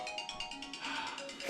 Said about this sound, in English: Phone call.